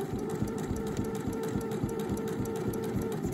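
A sewing machine stitches a shirt, its steady rapid mechanical chatter running continuously and close, with an even hum underneath and no pauses.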